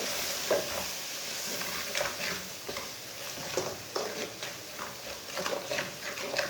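Ground red chilli, turmeric, coriander and gram flour frying and being stirred in a pan for aloo gobi, a steady soft sizzle broken by scraping stir strokes, close and moderately quiet.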